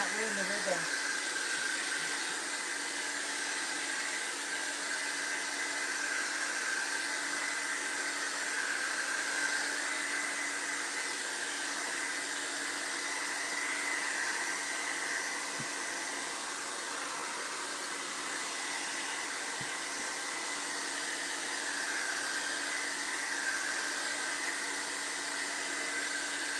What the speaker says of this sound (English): I know it's going to be loud, but I have to blow dry it.